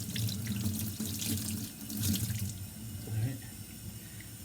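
Tap water runs steadily into a sink as a paint brush that was cleaned with mineral spirits is rinsed under the stream, the splashing shifting as the brush moves, with a brief spoken word over it.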